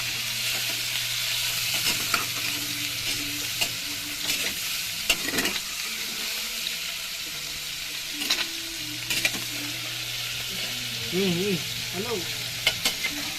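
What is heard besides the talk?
squid being stirred while frying in a pan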